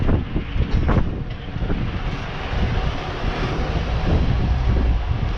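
Wind gusting hard across the microphone outdoors while foraging for wild cherries in Musselburgh, East Lothian, a loud continuous low rumble that swells and buffets throughout, with no voices.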